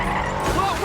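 A moving car in the film Chronicle, nudged by a clumsy telekinetic flick, skids with a brief tire squeal lasting under a second, mixed with road noise and a voice speaking over it.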